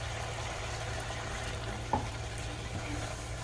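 Chicken and onions frying in a pan as a little water is added, a steady soft sizzle throughout with a brief splash partway through, fairly quiet and close with no talking.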